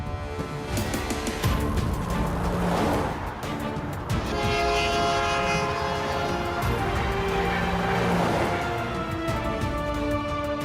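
A Chinese high-speed train under final testing before delivery sounds a loud, sustained horn with layered tonal harmonics over a rumbling rail roar, holding for several seconds, close and powerful.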